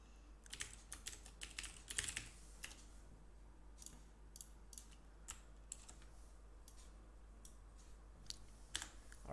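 Quiet, close computer keyboard typing while entering C++ code, irregular clusters of light key clicks with short pauses, alone over a low steady hum.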